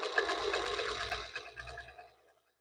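A Janome sewing machine runs fast with a quick, even whir, then slows and stops near the end.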